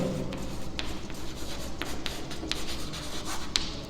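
Chalk or marker scratching across a board as someone writes out a sum, a quiet run of short strokes and taps, steady and close, with no voices.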